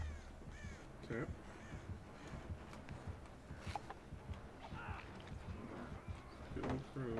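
Repeated harsh caws from crows in the Dead by Daylight game, several bursts spaced irregularly across the clip amid rustling game noise and soft speech in the background.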